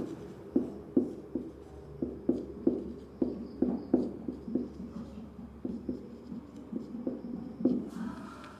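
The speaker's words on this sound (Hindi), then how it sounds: "फिर से एक बार लिख दे रहा हूँ यहाँ पर।" Chalk tapping and scraping on a board during a class 12 maths lesson on matrices, a steady series of short, crisp strokes repeating about every half second, close and clear with no talking over it.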